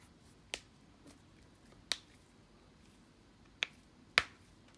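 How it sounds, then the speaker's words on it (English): Four crisp finger snaps ring out, spaced unevenly over a few seconds, close and sharp against a quiet room hum with no speech. "Don't I like clicking my fingers?"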